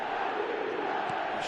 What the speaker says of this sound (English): the crowd are reacting to that now